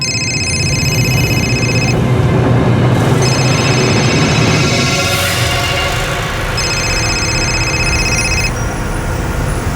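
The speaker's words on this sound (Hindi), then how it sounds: "आबिद भाई को फ़ोन लगाइए और उन्हें तुरंत बुलाइए" A telephone rings loudly in bursts of a bright repeating electronic tone, three rings within a few seconds, over a steady background rumble in a tense domestic drama scene.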